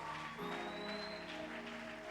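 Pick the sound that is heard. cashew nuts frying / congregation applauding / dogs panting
congregation applauding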